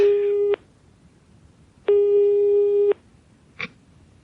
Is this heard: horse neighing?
no